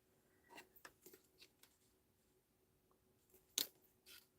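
Scissors snip through paper in a handful of sharp, close cuts spread irregularly, quiet between strokes, with one louder crisp snip near the end and no talking.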